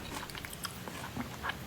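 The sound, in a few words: chewing sounds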